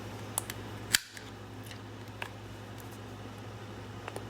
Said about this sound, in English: I am going to round the corners